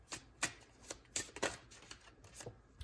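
Tarot cards are shuffled by hand in a quiet room, with a series of soft, quick riffling bursts and slaps in an uneven rhythm, close and faint.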